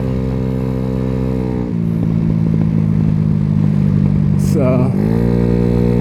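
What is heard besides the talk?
Venom X18 50cc scooter engine running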